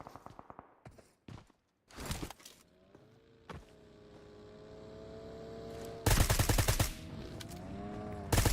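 Gunfire rings out in the battle royale game PUBG Mobile: scattered single shots early on, then a loud, rapid volley near the end over a background hum.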